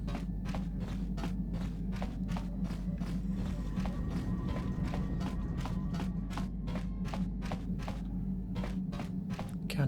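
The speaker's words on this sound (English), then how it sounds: "You think you hear the soft patter of footsteps behind you" Soft, evenly spaced footsteps patter steadily in the Star Wars: Knights of the Old Republic video game, light taps repeating over a constant low ambient hum with no talking.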